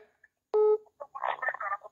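A telephone is dialled to make a call, with a short loud tonal beep followed by a few faint tones and some murmured voices close by.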